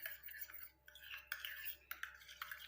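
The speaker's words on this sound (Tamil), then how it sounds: "கற்றாழையும் தேங்காயும் சேர்த்ததுக்கப்புறம் இதை நல்லா கலந்து விடுங்க" Aloe vera and coconut face cream being mixed in a small bowl, quiet scraping and clinking strokes of a spoon repeating in an uneven rhythm, close and soft.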